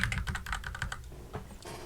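Rapid keystrokes clatter on a computer keyboard in a quick burst, close and fairly clear, with a few further taps trailing off near the end.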